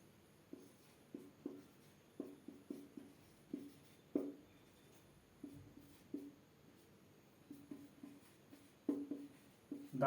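Chalk or marker strokes on a board during a maths lesson in a classroom, a steady run of short scratchy taps and strokes in irregular bursts, close and fairly quiet, with no talking.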